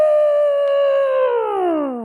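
A voice imitates an elephant trumpeting, a single loud sustained tonal howl held steadily and then sliding downward in pitch at the end, close and alone.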